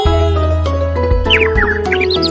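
A sparrow chirps in a quick run of bright, short tweets over steady musical tones, starting about halfway through and clustered toward the end.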